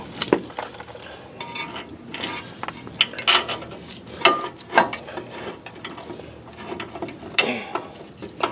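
Ratchet clicking in short bursts while a brake caliper bracket is fastened onto a 2001 Ford Excursion, with intermittent metallic clanks of tools and parts, close and moderately loud in a garage setting.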